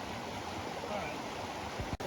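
White water rushing through a small mountain stream in North Georgia, a constant close hiss and gurgle of fast current, ending in a sudden thump or handling knock.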